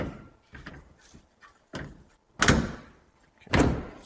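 The door of a 1957 Chevrolet two-door is worked shut and latched, giving a few light clicks and knocks and then two solid, close-up thunks about a second apart.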